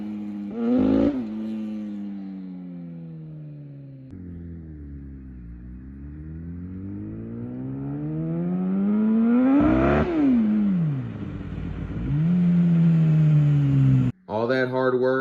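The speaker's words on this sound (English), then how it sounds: "The bike is still misfiring." A misfiring Kawasaki ZX10 motorcycle engine revs up and down in long rising and falling sweeps, loud and close, rough and uneven, with a brief cut near the end.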